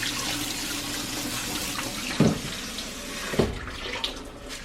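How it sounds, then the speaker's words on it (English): Cold tap water runs steadily through brown rice in a colander at a kitchen sink, a continuous close hiss and splash with a couple of brief louder knocks and shifts partway through. "I put it in a colander and I just go to the sink and I run it through some cold water"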